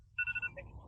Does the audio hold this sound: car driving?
no